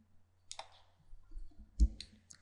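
Computer mouse clicks while erasing pixels in Photoshop: a handful of sharp, close clicks in two quick clusters, dry and isolated against silence.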